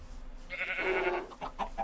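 Chickens clucking in the video game Minecraft, modded Sky Factory, in a short run of nasal clucks and squawks at moderate volume.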